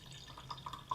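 Sake is poured into a wine glass, giving a brief, quiet trickle of liquid with soft dripping splashes over roughly a second, close by and with no talking.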